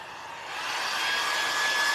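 A handheld blow dryer blows steadily, its airy whoosh rising in loudness as it is aimed at wet craft paint on a farmhouse-style wooden Halloween ghost decoration.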